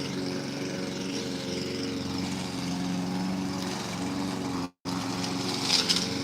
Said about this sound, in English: I'm over here by somebody just mowing her grass